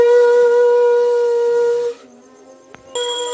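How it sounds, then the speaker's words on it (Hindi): A conch shell sounds during a Devuthni Ekadashi puja in Mithila, a loud sustained tonal blast that holds for about two seconds, cuts off, and then starts again after a brief quiet gap. "बज चुका है भगवान का शंख"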